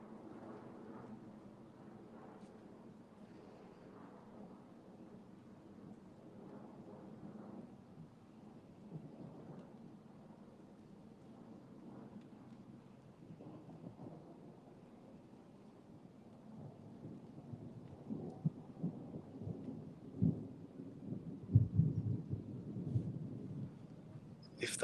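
A thunderstorm near Birmingham: steady low rumbling thunder rolls on beneath faint rain and wind, building into louder, closer crackling rumbles toward the end, with no voices.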